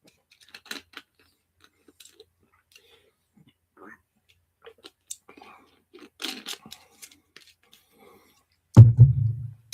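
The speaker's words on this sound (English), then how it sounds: "You're watching me chew." Close, quiet chewing comes as soft scattered crunches and mouth clicks in uneven bursts, then a brief low voice rises at the end.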